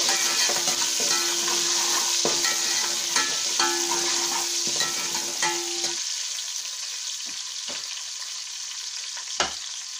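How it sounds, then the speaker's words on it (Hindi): Punjabi-style aloo gobi, potatoes and cauliflower, fries in a pan with a loud, continuous sizzle broken by repeated scraping stirs; a faint tonal hum underneath drops away partway through. "थोड़ी देर भून लेंगे।"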